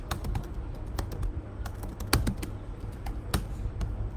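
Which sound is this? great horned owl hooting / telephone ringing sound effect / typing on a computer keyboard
typing on a computer keyboard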